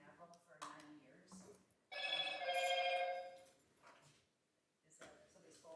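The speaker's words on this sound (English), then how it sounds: "Is that somebody's phone, or am I doing something wrong?" A phone rings out during a public board meeting, a bright electronic ringtone burst of about a second, heard between stretches of someone speaking at the microphone.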